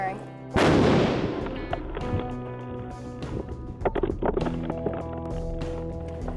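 A remotely fired explosive charge detonates at sea with one loud, deep blast that erupts suddenly and rolls off into a long rumbling decay, followed by wind noise, water sounds and talking voices.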